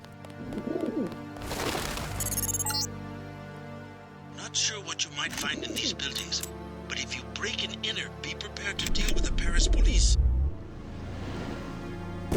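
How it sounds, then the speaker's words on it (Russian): Pigeon-like cooing in the Paris level of the video game Deus Ex, a few soft repeated coos set among game music and ambient effects, with talking over parts of it. "Птичка."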